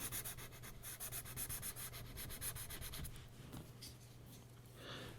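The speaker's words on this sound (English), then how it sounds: "Sketching his hair a little bit." A graphite pencil sketches hair strokes on paper, rapid rhythmic scratchy rubbing close up, quick repeated short strokes giving way to slower, softer shading.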